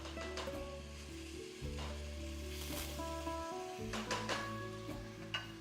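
Rice added to a hot pot, a loud close sizzle and frying hiss with stirring scrapes, ongoing throughout with steady background hum.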